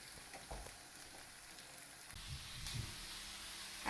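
Cod slowly simmers in a pan of tomato over low gas, a soft continuous bubbling hiss with faint pops, quiet and steady with a slight rise near the end.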